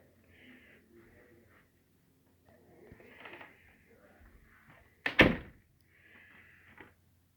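A house door whose swing has been reversed is opened and closed, with soft creaks and handling noise followed by one sharp closing thud. Quiet room, no talk.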